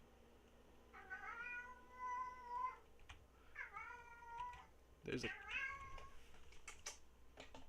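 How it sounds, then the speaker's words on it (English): A pet cat named Pistol Pete meows very loudly in three long, drawn-out wails, close to the microphone, with someone talking briefly between and over the calls. "cat meowing very loudly"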